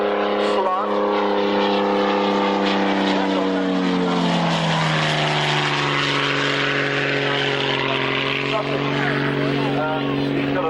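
A military aircraft at the Middle Wallop airshow drones past loudly, its engine tone sliding lower as it goes by, with a commentator talking over the sound throughout.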